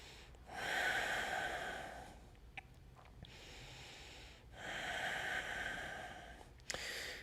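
Deep, slow breaths during a yoga stretch, close and airy: two long drawn inhales and exhales with a quieter pause between them and a couple of faint clicks.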